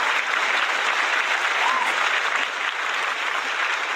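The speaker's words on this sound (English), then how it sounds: "applause for the champion" Canned applause plays as a sound effect for a wrestling champion, a dense, even roar of clapping crowd sustained at full loudness for the whole span.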